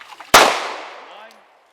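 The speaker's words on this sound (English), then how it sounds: "So fired all 10 rounds on the Glock 19" A single Glock 19 Gen 5 pistol shot fired underwater in a submersion test, a sharp loud report that rings out and decays over about a second, preceded by faint rustling.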